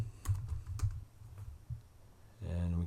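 Typing on a computer keyboard, a close run of light irregular key clacks with short gaps, ending in a steadier low hum near the end.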